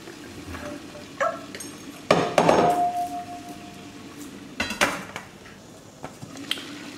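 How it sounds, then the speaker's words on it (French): Green beans go into a vitaliseur steamer pot on top of potatoes and eggs, with close metallic clanks of the lid and basket, a brief ringing tone, then a few lighter knocks. "Je vais donc mettre mes haricots verts au-dessus de tout ça."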